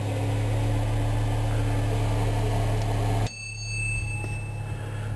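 An Onan RV generator powers a complete meal oven and seems to need adjustment. It gives a loud, steady droning hum with strong low tones, then abruptly drops near the three-second mark to a quieter, thinner running sound.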